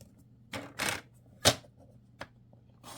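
A blade cuts through card stock guided by a template, giving several short, sharp scraping strokes and crisp taps spaced irregularly, close and fairly quiet.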